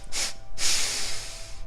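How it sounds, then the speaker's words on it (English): Three quick sharp sniffs drawn in through the nose during a breathing exercise, close and clear, in a short burst with a brief pause before the last two run together. "These are quick sniffs"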